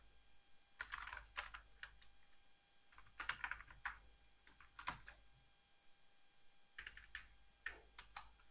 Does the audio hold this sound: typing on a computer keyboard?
yes